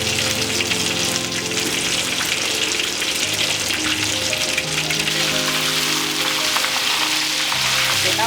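Stuffed chili fish frying in a pan, dense continuous crackling sizzle of hot oil, loud and close with a steady hiss throughout.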